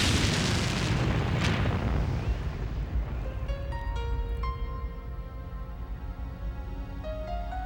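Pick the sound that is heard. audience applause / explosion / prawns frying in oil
explosion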